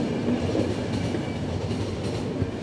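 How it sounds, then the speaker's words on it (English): A train rolls steadily along the rails in The Final Station, a continuous low rumble with a faint rhythmic clatter of wheels and no voices. "Your train will soon stop."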